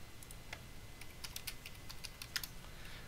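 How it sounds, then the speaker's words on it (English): Keys clatter on a computer keyboard as a short command is entered during a live-streamed game session, a quick, faint run of clicks over a steady background hiss. "I'm going to show you how to get your location by typing /LOC."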